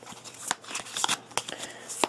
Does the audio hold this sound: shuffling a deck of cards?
yes